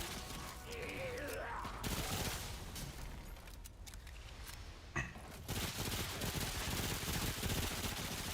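Close automatic gunfire in Remnant: From the Ashes, a co-op shooter, sounds in sustained bursts with brief pauses, and a voice is heard early on beneath the shooting.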